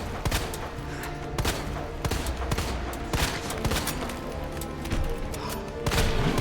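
Rapid gunfire from the Resident Evil 2 Remake video game, repeated sharp shots and booming hits in dense bursts over a steady game backdrop, loud and close.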